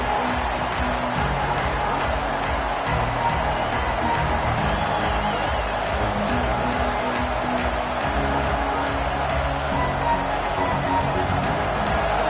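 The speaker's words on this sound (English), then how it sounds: "Listen to the crowd energy here in the early going." A constant roar of a large stadium crowd in an American football video game, dense and steady throughout, with no clear voices standing out.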